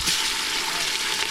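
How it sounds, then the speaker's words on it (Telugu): Masala-marinated meat joint pieces fry in boiling oil, a dense, steady sizzle and crackle heard close and loud throughout. "ఇప్పుడు బాయిల్ అయిన ఆయిల్లో ఒక్కొక్కటిగా వేసుకోవాలి"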